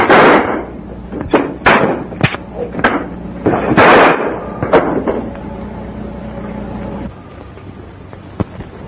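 Gunshots ring out in a western film shootout, a rapid volley of sharp, loud cracks with echoing tails in the first five seconds, thinning to a couple of isolated shots over a low background hum.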